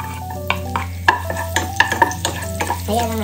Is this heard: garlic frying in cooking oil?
yes